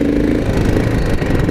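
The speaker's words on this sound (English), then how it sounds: "I don't love riding when it's cold out, because the bike just runs a little bit fussy" A cold motorcycle engine runs rough close by, a loud low chugging idle with slightly uneven, stuttering pulses throughout.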